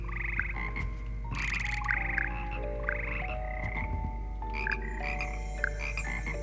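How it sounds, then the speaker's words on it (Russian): Chorus of frogs croaking inside the Hogwarts Legacy video game, many overlapping rhythmic croaks layered over a steady low ambient drone, fairly loud and continuous with no talking. "Хор лягушек."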